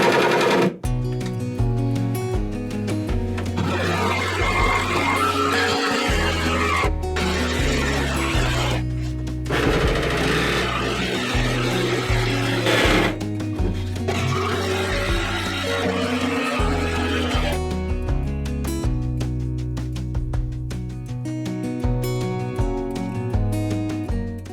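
A jigsaw cuts openings in a cabinet panel inside a steel sailing yacht, its blade chattering in a loud, rapid buzz that runs almost continuously, broken by a few brief pauses.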